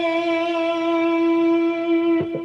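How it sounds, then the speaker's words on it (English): Quick vibrato on the B string of an overdriven electric guitar strung with light 10 gauge strings: one loud sustained note rich in harmonics ringing for over two seconds, with a couple of faint string or pick noises near the end. "A quick vibrato will look and sound like this."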